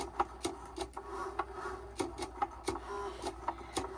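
Cricut cutting machine drawing on a cutting mat, a steady run of small mechanical ticks and clicks with a faint motor hum underneath, close and moderately quiet, with no talking.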